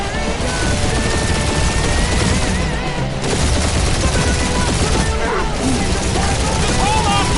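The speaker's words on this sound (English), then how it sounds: "Taking fire!" Rapid turret gunfire in the Guardians of the Galaxy video game, dense and loud with bursts layered over a steady engine-like roar of flight, while voices talk over the action.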